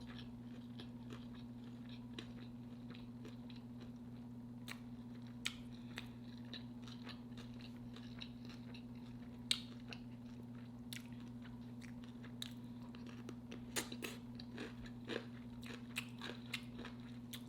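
Close, steady chewing and crunchy biting on a Popeyes homemade chicken wrap with pickle, with soft repeated bites over a low constant hum and no talking.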